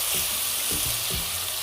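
Chopped tomatoes sizzle and fry in a pan for rajma, a continuous close crackle broken by a few soft scraping stirs.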